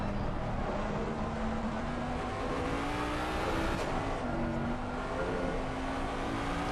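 A race car engine in a sim racing game at Paul Ricard holds a steady loud whine, its pitch easing and climbing with throttle through a corner, with a brief tire squeal midway and no talk.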